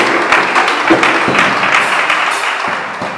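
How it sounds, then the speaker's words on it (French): A congregation at a church service claps for the Lord, a dense, lively burst of many hands clapping close and loud throughout. "A round of applause for the Lord."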